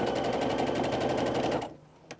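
A sewing machine stitches a quarter-inch seam joining quilt borders, a rapid steady mechanical chatter running close and loud for under two seconds before stopping, followed by a faint click.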